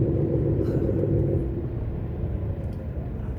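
Dense road traffic during the school run, with a heavy nearby rumble of car engines and tyres, steady and loud throughout.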